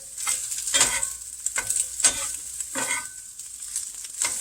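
Scrambled eggs cooked firm in a hot pan, stirred and flipped with a spatula: a run of repeated close scraping strokes over a light sizzle, each stroke distinct, with no voices.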